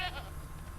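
A goat in the video game The Witcher 3 lets out one short, wavering bleat, faint and brief against a low background hum.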